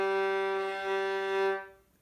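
A violin's open G string, its lowest, bowed in one steady, resonant, close-up note with rich overtones that holds for about a second and a half before fading out.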